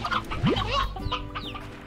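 Video game Slime Rancher chicken coop audio, with chickens clucking in quick, overlapping bursts over a continuous low background hum.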